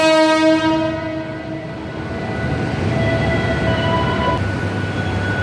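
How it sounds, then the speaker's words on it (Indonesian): Ambience inside Palmerah train station's passenger area, with a train horn sounding in long sustained tones over the steady rumble of rolling rail cars. "Suasana terkini di dalam Stasiun Palmerah di area penumpang"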